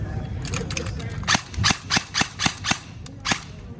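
Video game gunfire: a run of sharp, evenly spaced shots, about eight bursts close together over a low background hum, with no voices over the shots.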